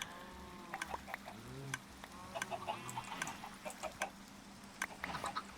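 Minecraft chickens cluck in short, slightly nasal bursts on an automatic chicken farm, mixed with scattered clicks and pops from the game, with no speech.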